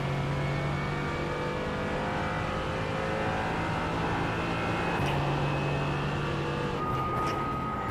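Race car engine in iRacing at Daytona during an IMSA Pilot Challenge race after a missed gear shift, a loud sustained engine drone whose pitch holds, breaking briefly around the fifth and seventh seconds, with no talking.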